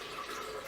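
Filtered water poured into a blender as the base for a green smoothie, a steady broadband splash that runs unbroken and fairly close for under a second, with no talking over it.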